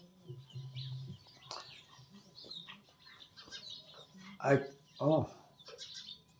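Birds nesting nearby chirp and cluck in short bursts, with two louder calls close together toward the end, mixed in with low speech.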